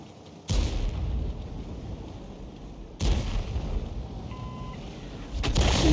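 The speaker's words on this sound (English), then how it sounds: "Looks like the Hummel fired in the same direction." Hummel self-propelled artillery gun firing in a tank video game: three heavy booming blasts, spaced a few seconds apart, each with a loud sharp onset and a long rumbling tail.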